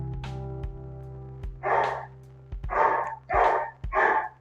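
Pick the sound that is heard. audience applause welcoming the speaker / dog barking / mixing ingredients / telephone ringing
dog barking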